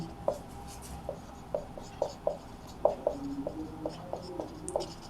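Pen writing out the definition of matrix equality on paper, a run of quick, light scratchy strokes and taps in an irregular rhythm, close and quiet with no speech.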